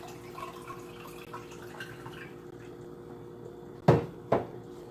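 Kitchen sounds as someone fetches water: faint dripping and clinking, then two sharp, close knocks of a cupboard door closing.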